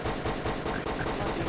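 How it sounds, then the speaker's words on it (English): Rapid machine gun fire in a video game, a dense, continuous stream of loud shots in fast rhythm. "he does need to machine gun him to kill him"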